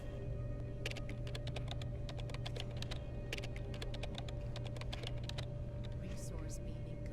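Typing at a computer panel in the sci-fi game Genesis Alpha One: quick clusters of keystrokes clatter over a steady low ship hum, pausing briefly midway, with soft bleeps near the end.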